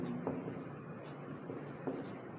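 Chalk or marker strokes on a classroom board, two short scratchy marks standing out over a steady hiss of room noise.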